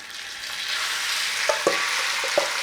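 Beef sizzling in hot oil in a pan over a flame, a steady loud hiss with a few sharper pops and spatters, close up and with no talking.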